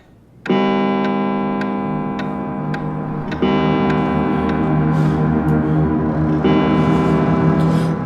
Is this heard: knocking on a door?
no